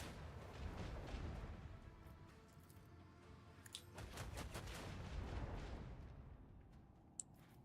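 Ship guns in the Rogue Trader game fire at incoming torpedoes in quiet, rumbling bursts and scattered cracks over a low background, with a sharp click near the end.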